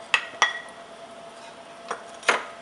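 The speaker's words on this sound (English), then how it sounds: "you want to go ahead and add in your lemongrass" Lemongrass drops into a pan for dry roasting, giving a few bright metallic clinks and knocks spaced unevenly over a quiet background, with no speech.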